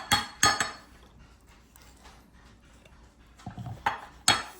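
Ice cream mix scooped into an Immergood Amish freezer, several sharp clinks and scrapes of a utensil against the container, close and spaced apart with quiet gaps between.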